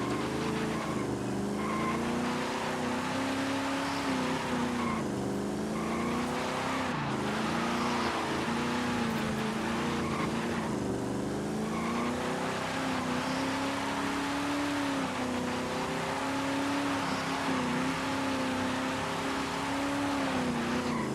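A car in Forza Horizon 5, a three-gear vehicle, drones steadily with an engine note that rises and dips through acceleration for about twenty seconds, loud and continuous with no talk over it.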